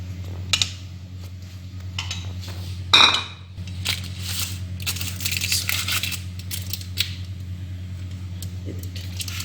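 A knife cuts through a baked, bakery-style chicken bread loaf, producing a scraping crunch and a sharp clink against the dish, amid quiet clattering, with someone speaking during the cutting.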